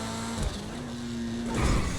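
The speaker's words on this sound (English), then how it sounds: "when I release the acceleration button, you can sort of hear the engine or something" An HSW car in GTA Online hums with a steady low engine drone, swelling slightly and rougher near the end as the throttle eases, heard alone and fairly close.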